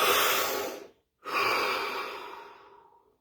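Two long, deep breaths come close and clear, an airy inhale followed after a brief silence by a slow, fading exhale, with no talking.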